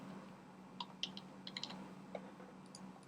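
Quiet clicks of a computer keyboard as a mobile number is typed in, a sparse run of light, uneven keystrokes over a soft room hum.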